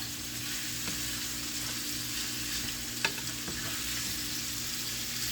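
Steak chunks for beef wellington sizzling and browning in a hot pan, a steady dense hiss throughout with a couple of faint clicks from stirring, no voices.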